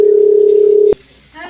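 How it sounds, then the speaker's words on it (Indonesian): A steady telephone tone rings out loud and clear for about a second, then cuts off abruptly into quiet room noise. "Yuli beneran telepon aku."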